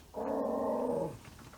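A dog gives a single low, sustained growl of about one second, close by and fairly loud in a quiet room.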